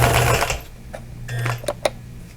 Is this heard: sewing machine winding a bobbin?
yes